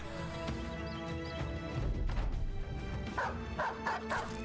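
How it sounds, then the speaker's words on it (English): Dogs in the video game Battle Brothers bark and yip while attacking a shield, with dense overlapping combat noise, clashing thuds and game music blending underneath. "those dogs just keep poking at his shield"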